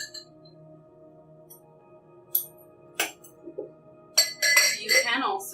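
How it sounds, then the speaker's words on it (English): A spoon stirs a drink in a glass, giving a few light clinks spaced apart that build into a denser rattling burst near the end, all close and fairly quiet with soft background hum. "Just give it a really nice stir."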